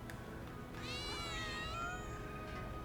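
In Final Fantasy VII Remake, a cat lets out a drawn-out, wavering meow, fairly faint over a low game background hum.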